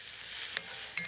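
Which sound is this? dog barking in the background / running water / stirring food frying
stirring food frying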